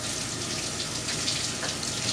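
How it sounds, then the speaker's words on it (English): A kitchen sink tap runs steadily as hands are rinsed under the stream, a continuous close splashing rush with no pauses. "I'd like to rinse my hands"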